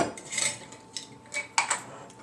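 A 1/4 cup measure scoops dried herbal infusion mixture into a quart glass mason jar, giving faint scraping rustles and a few light clinks of metal against glass in a quiet room.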